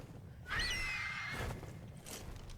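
A level 145 Carcharodontosaurus in ARK: Survival Ascended gives one drawn-out, tonal roaring call lasting about a second, followed by a fainter rumble over quiet ambient game sound.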